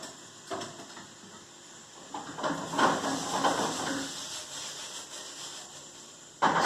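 Steam hisses from a pot where a frozen lobster is being boiled, a soft, breathy rush that swells in the middle and then eases, with a sharp knock near the end.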